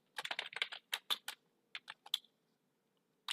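Keys tapped on a computer keyboard while text is typed out, in quick irregular bursts of clicks with a short pause before a final lone keystroke; no talking.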